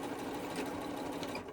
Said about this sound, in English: sewed all the way around those other three sides